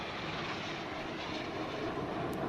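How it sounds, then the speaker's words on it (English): MiG-29 fighter jets fly past during a Republic Day ceremony flypast in Vic formation at 360 meters, giving a loud, continuous, broadband jet roar with no voices. "That's the roar of the MiG-29s."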